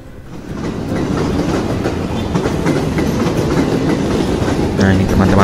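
Commuter train rolling past Jatinegara station in Jakarta, a steady loud rumble with rail clatter that holds throughout, heard from a nearby footbridge.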